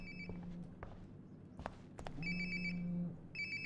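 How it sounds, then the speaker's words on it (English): A phone rings nearby in a game scene: a repeating electronic ring in short bursts, moderately loud over faint background noise and a few soft footsteps. "Sounds like my phone is definitely nearby"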